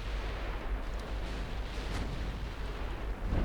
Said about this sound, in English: There we go, more torpedo hits on the enemy battle line.